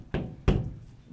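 Two distinct knocks on a chamber door, spaced about a third of a second apart, dull and close with no talk over them.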